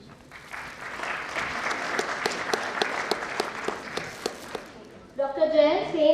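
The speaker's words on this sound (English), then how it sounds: "A big clap for him." An audience at an international sports and exercise medicine conference applauds to welcome a speaker, with steady hand clapping for about five seconds before a voice begins talking over the end.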